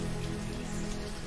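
Rain falling in the village-building game Banished: a steady, dense wash of raindrop patter with no pauses, moderately loud and heard alone.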